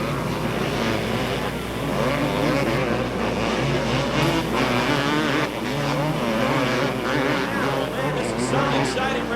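Off-road three-wheelers, quads and motorcycles race side by side through a hairpin at a dirt raceway, a dense, loud, continuous roar of several engines revving and shifting, with a commentator's voice over the noise.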